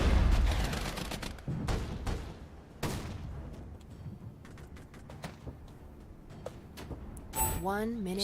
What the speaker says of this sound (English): they're taking fire from our ATGMs now